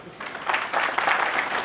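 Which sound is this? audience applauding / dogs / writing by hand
audience applauding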